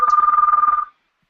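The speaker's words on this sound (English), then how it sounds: "my phone is ringing" A phone rings with one rapid warbling electronic trill lasting under a second, loud and close, then it stops into silence.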